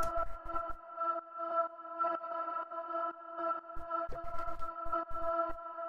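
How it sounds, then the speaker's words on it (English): A granular vocal synth drone built with Ableton's Granulator in a 125 BPM progressive house track, holding one steady C note in layered harmonics, with short, low, percussive bursts at the start and near the end. "the first sound that I have here is this granular vocal synth thing"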